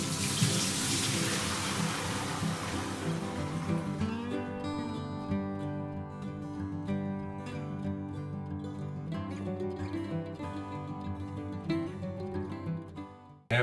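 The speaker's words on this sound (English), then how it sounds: "we're just gonna strain everything through this wire mesh strainer and colander and let it, you know, drain slowly to get everything through" Banana brandy wash pours and drains through a wire mesh strainer and colander, a steady watery splashing rush for the first few seconds before music takes over and carries on to the end.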